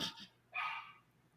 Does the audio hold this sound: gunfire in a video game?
no